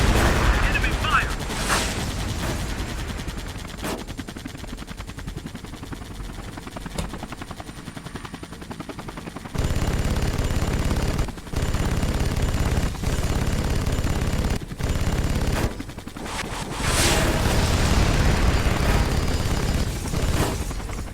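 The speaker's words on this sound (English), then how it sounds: "Enemy fire!" Gunfire in the Vietnam-era air combat game Air Conflicts Vietnam comes in rapid bursts and steady rattling volleys, broken by short pauses and occasional louder booms, with a voice talking over parts of it.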